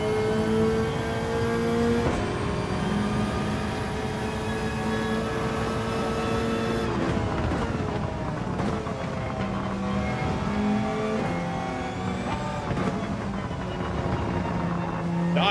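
A McLaren race car engine in Gran Turismo 7, revving loudly and climbing through the gears with sustained high-pitched whine, brief drops at shifts, other cars close by, and faint commentary underneath.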